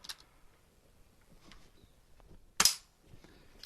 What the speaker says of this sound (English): I'm going to just take a quick shot because I don't like leaving guns loaded even with the safety on